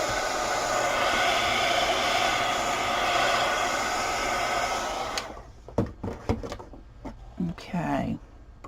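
A hair dryer blows steadily at close range over a watercolor painting for about five seconds, a dense broadband whoosh that cuts off abruptly, followed by quieter scattered clicks and handling noises.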